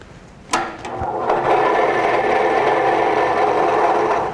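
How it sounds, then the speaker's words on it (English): A scroll saw starts up with a click and settles into a fast, steady mechanical buzz at 1100 strokes per minute, close and constant with no talking. "Adjust the speed of the scroll saw to the correct speed"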